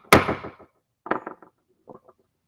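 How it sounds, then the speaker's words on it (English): A three-pound hammer whacks a workpiece: one loud, close strike with a ringing decay, then two quieter clusters of knocks and rattles after a pause. "3-pound hammer. Whacking the shit out of the thing that we need to whack the shit out of."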